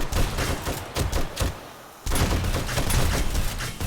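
A gun firing non-stop in the survival video game 7 Days To Die, with loud rapid bursts that break briefly and then resume as continuous close gunfire.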